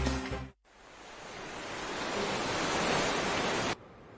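Broad steady wash of water and wind noise on Lake Michigan during a swim call after a sailboat race, rising gently then cutting off abruptly, with no voices.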